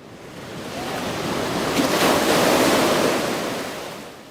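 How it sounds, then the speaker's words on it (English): Gentle ocean waves at the Virginia Beach oceanfront, one broad wash of surf swelling and fading, with a breezy hiss and no voices. "Gentle waves roll in and gulls fly overhead."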